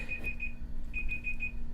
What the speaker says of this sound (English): Apparently that timer does make noise whenever it finishes.